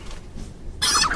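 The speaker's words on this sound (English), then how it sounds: "Let's throw a chicken at these guys." A chicken hurled at enemies in the fantasy strategy game Age of Wonders III, giving a short, loud squawking cry that bursts in near the end after a low rumbling background.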